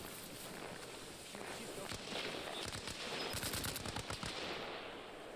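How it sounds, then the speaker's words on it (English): Gunfire crackles from a battle in the video game Arma Reforger, dense bursts of machine-gun fire rattling at moderate distance, rising and clustering in the middle of the stretch over steady background noise. "We can hear fighting at Fagari."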